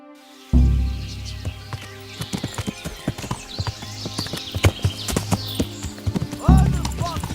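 Horses in a medieval video game clip-clop along with uneven hoofbeats and snort, and a neigh rises near the end, fairly close, mixed with low game ambience.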